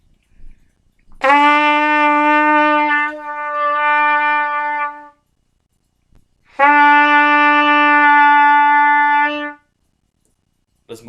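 A band instrument sounds a sustained note E twice, each long, clear and steady, separated by a few seconds of silence, close and alone.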